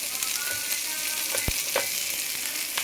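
Bitter gourd seeds frying with onion in a little oil, a steady close sizzle with a couple of brief stirring knocks.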